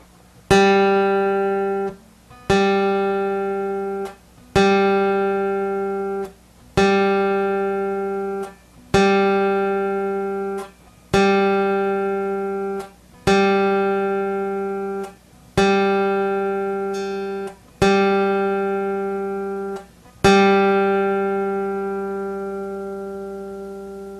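A single plucked guitar note on the G string rings out about ten times, each pluck decaying before the next, evenly spaced with no talking.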